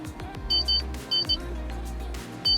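Short electronic alert beeps from a Sparex intelligent vehicle camera system as it detects a person, sounding in paired high pips at intervals over a low background hum.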